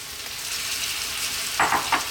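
Carrots and green beans sizzle in a hot pan for Ethiopian fasoliya tibs, a steady frying hiss with a couple of brief, louder spatters near the end as the vegetables go in.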